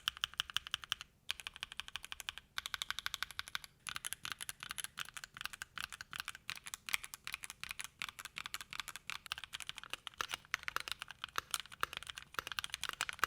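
A keyboard fitted with a masking tape mod clatters under steady, fast typing, its keystrokes close, crisp and muted, with only brief pauses.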